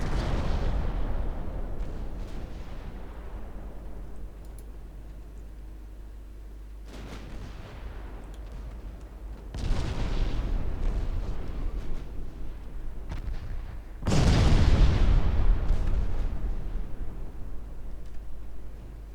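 Naval 5-inch guns fire in the video game Ultimate Admiral Dreadnoughts: deep booming blasts with long rumbling decays, several heavy bursts overlapping over a constant low drone.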